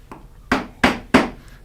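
A joinery hammer strikes a chisel driven into wood for a bridle joint, three sharp, solid knocks at an even pace after a faint lighter tap, close and clear in a quiet room.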